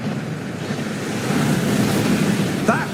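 A rushing waterfall at the Gringotts vaults in a Hogwarts video game roars as a steady broadband wash of water noise, loud and continuous throughout.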